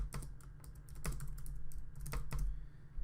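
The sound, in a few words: typing on a computer keyboard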